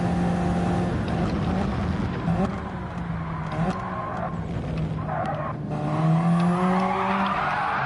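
A race car in Gran Turismo 7 on the Deep Forest circuit, its engine droning steadily while tires squeal and skid through corners, the revs dropping and climbing again, loud and continuous.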